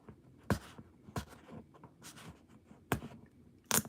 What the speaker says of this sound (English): Need to get this sticker off.